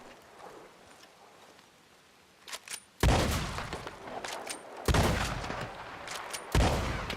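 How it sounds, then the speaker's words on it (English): Repeating shotgun firing in Red Dead Redemption 2, out in the open world. Three loud, booming blasts come at roughly two-second intervals, each trailing off in a rolling echo, after quieter clicks and handling noises, with no talk. "let's get out my repeating shotgun"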